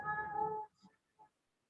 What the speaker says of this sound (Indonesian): Ada kucing tempat saya